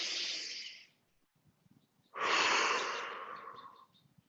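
Slow deep breaths during a lymph-drainage self massage: one long breath fading out, a quiet pause, then a second long, loud airy breath, close to the mic.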